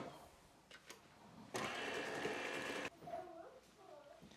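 An electric mixer on medium-low speed blending egg and vanilla extract into sugar cookie dough: a steady, dense whirring burst of about a second and a half, with quieter clinks and faint voice-like sounds around it.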